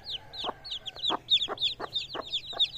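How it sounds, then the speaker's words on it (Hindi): Five young chicks peep in quick, repeated high chirps at close range, a steady run of short calls with a few louder notes and no talking. "ये हैं हमारे 5 चूज़े, माशाल्लाह से काफी क्यूट है"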